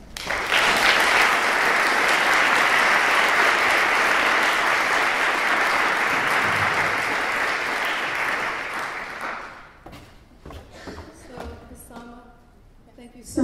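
Audience applause fills the hall at a conference plenary panel, loud and sustained for about nine seconds before tapering into scattered claps and a few faint voices.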